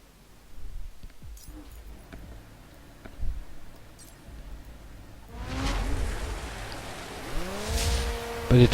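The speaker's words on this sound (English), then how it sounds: "it's wheel spinning a bit, first gear at least" Lotus Exige S in The Crew spinning its wheels in first gear, engine note rising in two revving bursts with tire squeal over a low background hum, fairly close and growing louder toward the end.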